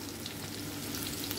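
Sweet potato (camote) slices frying in hot oil, a steady close crackling sizzle with dense popping that holds evenly throughout, no voices.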